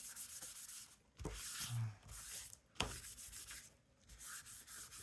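A paper journaling card made from scraps is rubbed by hand in a few bursts of soft, close scuffing friction, quiet and separated by short pauses.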